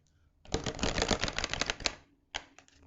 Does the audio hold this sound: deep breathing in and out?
no